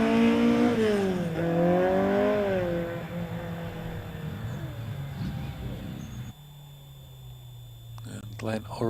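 A Mark III Davian hillclimb car with a 1-litre Imp engine races up the Harewood course, its engine note rising then fading into the distance under a commentator's voice.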